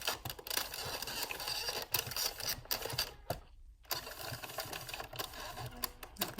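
An Addi Express circular knitting machine clatters steadily as its crank turns, needles rising and falling in a fast rattling rhythm, close and busy, broken by one brief pause before the mechanical chatter resumes.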